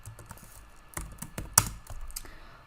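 Someone types a MySQL query on a computer keyboard, a quiet, uneven run of soft key taps with a few sharper clacks, close up and with no talking.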